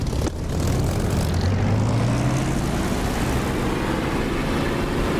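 A propeller aircraft engine in a DCS flight simulator spools up for takeoff, a loud steady drone rising in pitch as the throttle opens and then holding at full power.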